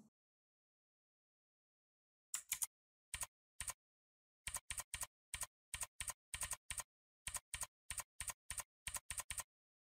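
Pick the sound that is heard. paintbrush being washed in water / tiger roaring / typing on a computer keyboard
typing on a computer keyboard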